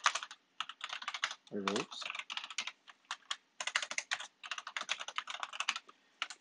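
Rapid bursts of typing code on a computer keyboard, close and crisp, in quick clustered runs with brief pauses, and a short spoken phrase in the middle.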